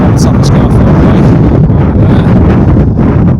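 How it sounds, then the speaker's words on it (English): Strong gusting wind roars across the microphone on a sunny mountain summit above Wasdale in the Lake District, a loud, continuous buffeting that fills the whole clip. "Lots of wind."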